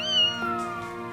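A pet cat meows once in a long, drawn-out tonal call that bends downward, loud and close, with no talking.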